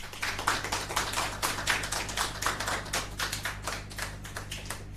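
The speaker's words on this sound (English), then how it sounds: "Mesdames et messieurs, un applaudissement s'il vous plaît." A virtual graduation audience applauds a 2021 President's Cup award winner, with dense, steady clapping from many hands that holds at an even level for the full stretch and carries no talk.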